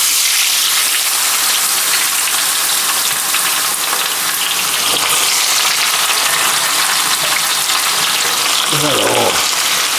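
Potatoes and onion fry in a big pan of hot oil, giving a loud, dense, continuous sizzling roar close by, with a brief voice breaking in near the end.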